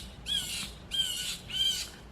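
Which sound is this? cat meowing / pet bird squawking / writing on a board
pet bird squawking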